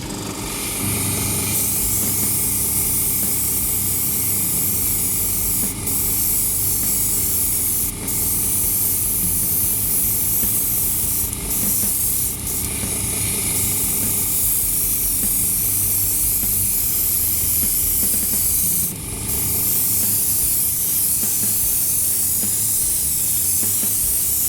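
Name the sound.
spray paint can spraying Nebula paint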